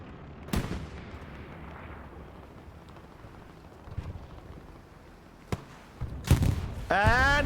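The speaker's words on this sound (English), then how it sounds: "And another recon tank dies." A recon tank is destroyed in a strategy war game: several sharp, separate blasts and gunfire cracks ring out over a low rumbling battlefield, and a voice breaks in near the end.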